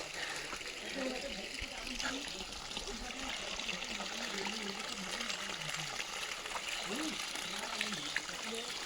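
Overflow water from a tank in the Uttarakhand village of Aanvligad trickling into another tank: a steady, continuous splashing trickle with someone talking over it.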